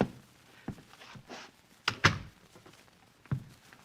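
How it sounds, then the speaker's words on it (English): Door closing effects in an old-time radio drama: a few scattered thumps and knocks, then a sharp latch click and a firm shut near the middle, followed by a softer bump, heard close with no talk. "Close the door."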